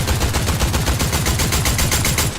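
Rapid automatic gunfire spraying at enemy builds in the Fortnite video game, a dense, loud, continuous rattle of shots at a steady fast rhythm with no talking.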